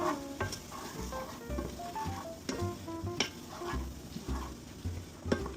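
A spoon stirs oil in a pan with a steady, continuous texture of soft scraping, light sizzle and occasional clinks of metal, close up and with no voices.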